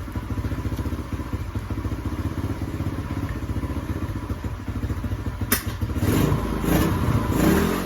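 A small gas three-wheeler engine idles in a steady, rapid putter at close range, then its note thickens and grows louder near the end as it revs. A few clattering knocks sound over it, and no one talks.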